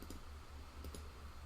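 Soft computer mouse clicks while opening a video file in Handbrake, two or three quiet taps close by over a low steady background hum.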